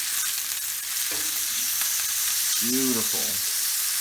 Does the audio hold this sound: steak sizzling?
yes